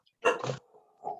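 A small dog gives two or three quick, sharp yips close by, followed by a softer whine-like tail, short and fairly quiet with no voices over it.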